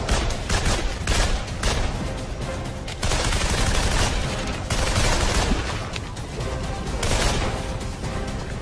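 Dense, continuous rattle of rifle and machine-gun fire during a US Marines versus Canadian infantry training exercise, loud and close with sharp overlapping bursts and no pauses.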